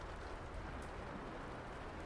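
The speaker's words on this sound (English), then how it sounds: "The rain continues to patter softly" Soft, steady rain pattering on a glass ceiling, a faint continuous hiss of drops with no voices.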